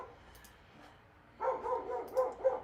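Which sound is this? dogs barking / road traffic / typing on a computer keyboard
dogs barking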